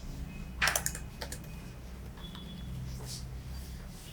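A few sharp clicks of keys on a computer keyboard while Java code is typed, with a short burst near the start and a lighter patter later, close and fairly quiet over a low room hum.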